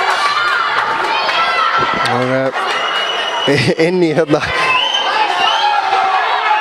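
Spectators at a women's cup football match between ÍA and Selfoss shout and cheer as a steady crowd roar throughout, mixed with high shrill calls, while a commentator talks over it.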